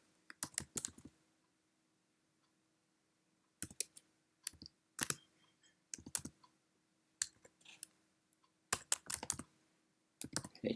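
Quick bursts of typing on a computer keyboard, clicky keystrokes in clustered runs separated by short pauses, close and clear over a faint steady hum, with no talking.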